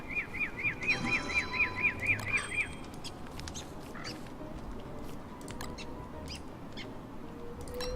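Bird sounds in the video game Don't Starve: a quick run of about ten repeated high chirps early on, then scattered faint ticks over a steady low background hum.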